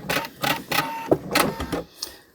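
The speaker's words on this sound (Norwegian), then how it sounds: "Nå skal vi se, jeg klipper tråden." A sewing machine's automatic thread cutter whirs and clicks in a quick, rhythmic series of mechanical bursts, close and fairly loud, with no speech over it.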